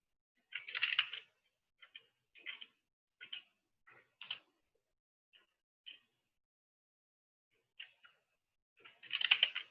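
A command is typed on a computer keyboard in short, irregular clusters of light key clicks separated by pauses. The clicks are close and quiet, with a denser flurry at the start and another at the end, and no voices.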